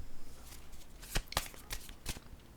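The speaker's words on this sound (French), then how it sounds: "Je vais piger une carte noire." A black card drawn from a shuffled deck: soft papery rustling broken by a few crisp, close snaps and flicks, spaced irregularly in a quiet room.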